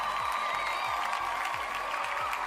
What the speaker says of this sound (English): I got to give a round of applause to that.